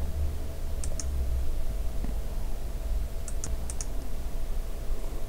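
Mouse clicks on a confirm button during a partial correlation setup, heard as a pair of sharp, faint clicks near the start and a quicker cluster of three or four later, over a steady low hum.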